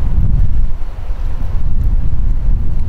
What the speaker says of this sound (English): I'm picking up a little bit of wind coming in from the northwest